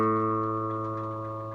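Open A string plucked once on a guitar being tuned, one clear sustained note ringing steadily and slowly fading, alone with no voices.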